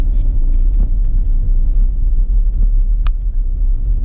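Car climbing the road up Mount Washington, a steady close engine and road rumble running throughout with no talk, plus one brief sharp click near the end.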